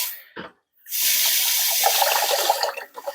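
Water gushing from a hose into the tank of a 1970s vintage camper RV, a loud steady rushing after a brief splash and a short pause, fluctuating toward the end.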